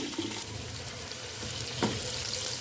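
Two large onions fry in hot ghee for a chicken leg biryani, giving a soft steady hiss with faint crackles and one brief scrape partway through, fairly quiet with no talk.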